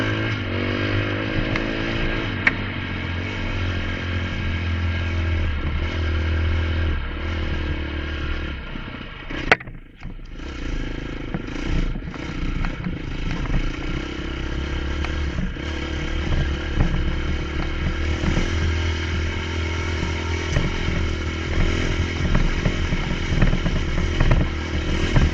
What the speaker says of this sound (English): It's clanking into the helmet a little more than I'd like to see.